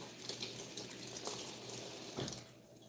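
A kitchen tap runs steadily while salmon is rinsed under it, giving a constant splashing hiss with small spatters and a few louder gushes, close and fairly quiet.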